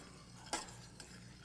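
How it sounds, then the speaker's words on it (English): A spoon stirs a boiling mixture in a pot, giving two short scraping strokes over a steady bubbling hiss. "then we're going to stir it 60 times"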